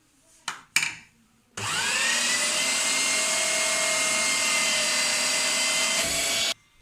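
An electric grinder whirs loud and steady as it grinds kebab ingredients, starting after a couple of short bursts and running continuously for several seconds before cutting off abruptly.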